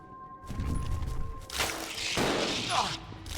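Gunfire in the video game Resident Evil 0 sounds as a burst of loud shots and impacts amid game noise, with someone speaking briefly in between.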